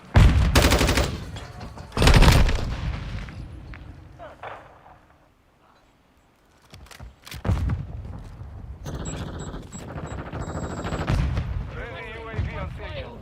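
Call of Duty Modern Warfare II gunfire comes in dense bursts of rapid automatic shots and heavy booms, then a quiet lull before more scattered firing and battle noise, with voices speaking at times.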